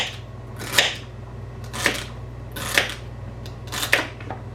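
Celery stalks chopped with a knife on a board, four crisp, evenly spaced cuts about a second apart, each a sharp close thunk over a steady low hum.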